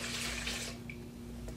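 Wine, a Virginia Chardonnay, poured into a glass: a brief close splashing trickle that stops quickly, faint and quiet, with no voices.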